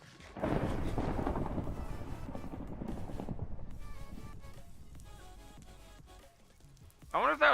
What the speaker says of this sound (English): I wonder if that was lightning striking over there.